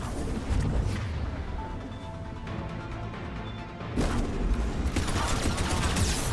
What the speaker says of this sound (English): Damn it, he's got a turret in my face.